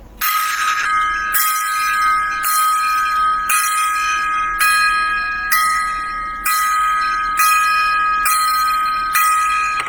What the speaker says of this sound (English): Let's give a 10 gong salute right now to these fallen Challenger astronauts here, remembering the Challenger.